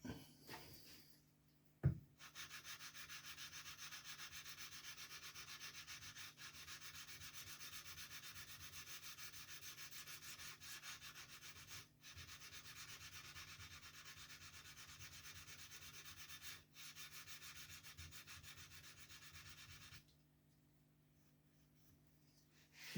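Steady rubbing of 800 grit abrasive paper worked by hand across a plate sole, a continuous dry scraping that runs unbroken for most of the span with brief pauses, then stops near the end.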